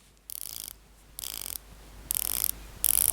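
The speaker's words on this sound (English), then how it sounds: "Whereas my Willard is a little bit more stiffer, and the clicks you can hear a bit more." Ratchet clicks from the stiff rotating bezel of a Seiko Willard dive watch, turned in four short bursts of rapid clicking separated by pauses, close and getting louder with each turn.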